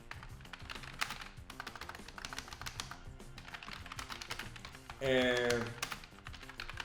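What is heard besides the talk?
typing on a computer keyboard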